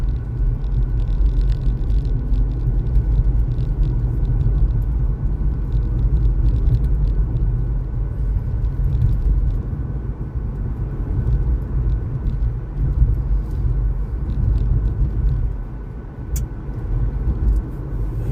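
Steady street traffic rumbles around a moving car, with engine drone and passing vehicles blending into one continuous loud wash for the whole stretch, without speech.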